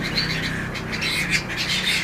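Canaries in an aviary of about 200 birds, a dense nearby chorus of overlapping chirps, trills and squawks, continuous and fairly loud.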